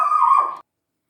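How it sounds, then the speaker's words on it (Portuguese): A pet dog gives a single short bark or yelp, close and fairly loud, lasting about half a second before cutting off into silence. "Turma, meu cachorro latiu,"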